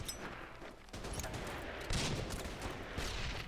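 Artillery fire in the strategy video game Order of Battle: Burma Road, a faint, dense rumble of overlapping blasts and crackling bursts running steadily throughout.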